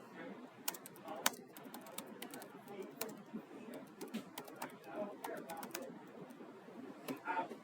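Irregular clicking of typing on a computer keyboard throughout, soft and close, with a quiet room murmur and faint voices beneath the keystrokes.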